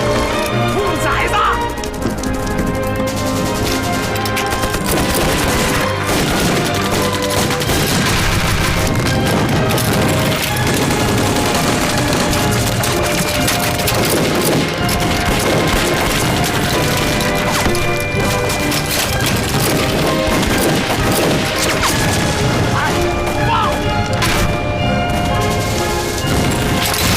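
Heavy gunfire and artillery thunder through a riverside battle scene in a Chinese war drama, with dense crashes, booms and rapid shots under a loud, continuous score and shouting voices.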